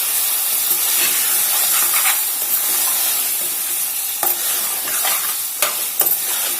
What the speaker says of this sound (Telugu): చికెన్ వేగిందండి ఆయిల్లో.